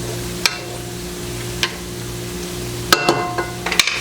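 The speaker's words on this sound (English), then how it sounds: "I'm going to stir this until the butter's all melted" A spoon clinks against a pan while sausage and butter are stirred over the heat, a few scattered metallic taps over a quiet steady background sizzle.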